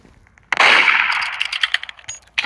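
A Roblox gunshot rings out as a sharp, loud crack followed by a ringing metallic tail and a few rattling echoes, then a second quick burst near the end, with no talking.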